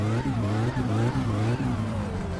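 A repaired car engine in My Summer Car revs up and down loudly and close, its pitch rising and falling in quick repeated surges.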